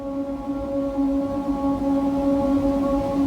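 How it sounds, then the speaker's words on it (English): Dark sustained synth drone sample in A minor, left unprocessed, with steady layered low tones holding at an even, continuous level throughout. "I went into Splice and I found this drone sound."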